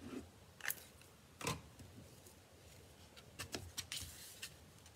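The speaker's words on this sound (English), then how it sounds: "just grab your scissors, trim it off" Scissors snipping paper while trimming a piece for a handmade greeting card, a few faint, sharp cuts scattered at irregular intervals over a quiet background.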